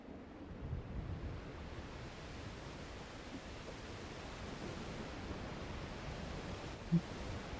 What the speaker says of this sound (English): I don't think I've been under this waterfall before.